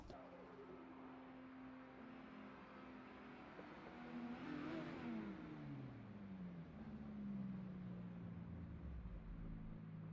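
Drift cars, one of them a Ferrari, roar and rev through a drifting battle at a VDC competition in Tocancipa, engines rising and falling in pitch as they pass, loud and sustained, with no voices.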